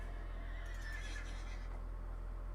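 A bone horse mount in a video game gives a faint whinny that rises and trails off over a steady low hum, a single call with no voices over it.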